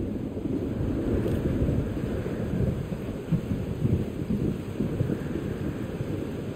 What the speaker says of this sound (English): Weather's worse than I remember it. Storm followed me.